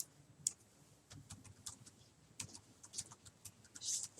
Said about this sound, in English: in this case, we'll type in maybe Nike golf shirt